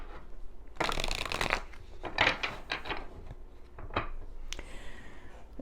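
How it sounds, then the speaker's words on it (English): Tarot cards are shuffled by hand in several quick riffling bursts with short gaps between them, close and crisp with no talking. "let me pull some more cards for clarification for you"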